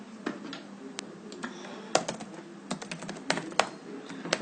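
Steady typing on a computer keyboard while entering network switch configuration commands, with irregular close key clicks and a few louder taps over a quiet room.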